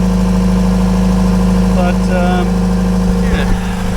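An idling yacht engine runs with a steady, loud low-pitched drone and throb, close by, as someone speaks briefly over it.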